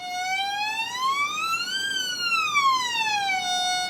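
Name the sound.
violin finger sliding up and down the E string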